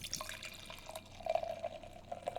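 Stout beer from River's Edge is poured from a can into a glass, a faint, quiet gurgle and trickle of liquid with small drips, close by and with no talking.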